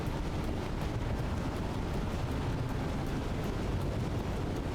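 Missile attack explosions in the video game Wavetale, a dense continuous roar of blasts and rumbling debris that stays loud and steady throughout, with no pauses or talk.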